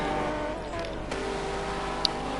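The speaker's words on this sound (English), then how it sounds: "2 BMWs racing each other" Two BMW GT3 race cars battling on a circuit during a qualifying session, their engines a steady droning roar with a sharp pitch shift midway and a faint click near the end.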